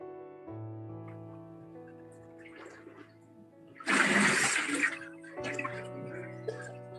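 Water splashing in a church baptistery during a baptism, a loud burst of sloshing and spilling water lasting about a second, set against a steady sustained musical tone before and after.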